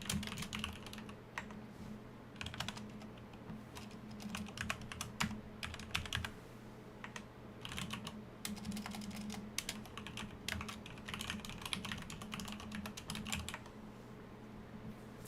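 A computer keyboard typed on steadily, rapid clustered key clicks with brief pauses between bursts, close and clear over a low electrical hum.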